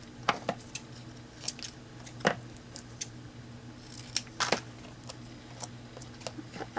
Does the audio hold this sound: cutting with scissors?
yes